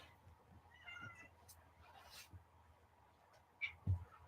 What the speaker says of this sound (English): It seems to be meowing to say, let me go outside.